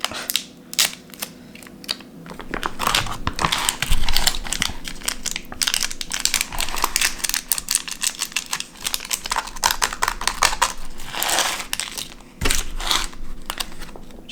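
Small plastic soy sauce packets being torn open and squeezed by hand, a busy run of crinkly, crunching rips and snaps up close, repeated over and over with no talk.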